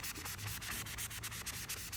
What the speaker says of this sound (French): On peut aussi frotter avec l'effaceur magique.